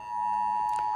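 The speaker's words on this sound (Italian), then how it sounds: "Questo è il sistema d'allarme, sta suonando, sentite, a mezzogiorno in punto IT Alert" Italy's IT Alert public alarm system sounds a steady electronic tone, loud and continuous, held for about a second before it cuts off.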